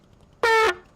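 One short, loud blast from a vehicle horn in the farming video game Landwirtschafts Simulator 25, lasting about a quarter second, with near silence before and after.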